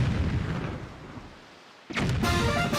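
Deep, booming cannon shots in The Legend of Zelda: The Wind Waker HD. A rumbling blast fades away, and a second sharp shot follows near the end.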